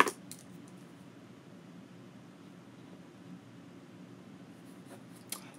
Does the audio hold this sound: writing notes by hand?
yes